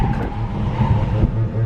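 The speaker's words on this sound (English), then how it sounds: "I'm just gonna stand on the gas" A car under hard acceleration on a test drive at an auto show, its engine roaring steadily and close, a dense low rumble with no talking over it.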